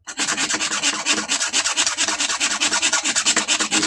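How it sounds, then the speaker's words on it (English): A 12-inch Earthquake subwoofer with a bent voice coil rubs against the side of its gap, making a harsh, steady scraping buzz that pulses in quick rhythmic strokes, close up, with no talking. "even after straightening the bloody coil, it's still rubbing on the side"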